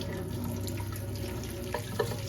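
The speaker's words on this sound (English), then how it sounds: "we're just going to give them a light wash. Being careful not to damage the blooms." Tap water runs steadily into a sink as freshly picked chive blossoms get a light rinse, a continuous close splashing with a couple of brief drips near the end.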